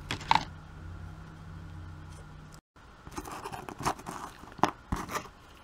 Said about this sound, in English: take some of my tape, cut a little strip of this